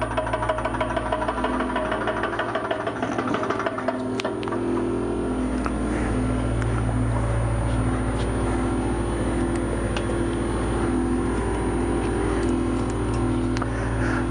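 An Anion Goliath refrigerant recovery pump runs steadily, a loud mechanical hum with a rapid ticking, knocking pulse that stays constant throughout.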